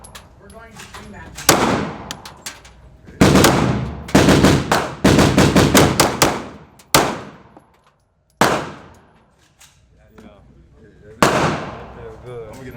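Gunshots from handguns at an outdoor shooting range, loud and close, with sharp cracks fired singly and in quick bursts separated by pauses, each shot ringing off briefly, with occasional talk between volleys.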